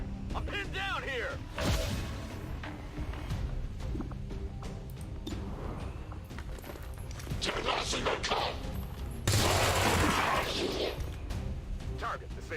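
Bursts of gunfire and crashing impacts from XCOM 2 combat ring out between voices talking over the action, with a dense, loud volley near the end.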